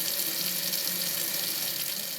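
Tap water runs steadily into a sink, a close, continuous hissing splash with no break and no voices.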